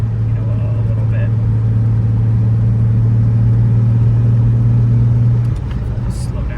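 A 1969 Jaguar XKE Series II engine drones steadily from inside the car while driving, a loud, even mid-range hum that drops away near the end.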